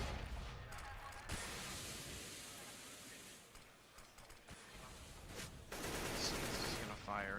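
Gunfire in a Counter-Strike match on the Mirage map rattles in dense bursts from middle distance, with quieter gaps and sharp mechanical clicks between volleys.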